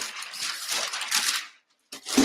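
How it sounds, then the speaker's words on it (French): A paper page being turned gives a brief crisp rustle and swish, close and fairly loud, then a short pause and a light tap. "Je tourne la page."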